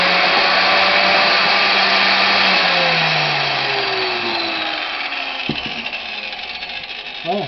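An Einhell TC BJ 900 biscuit joiner runs with a loud, steady motor whine that slowly drops in pitch as it spins down, then ends in a few clicks.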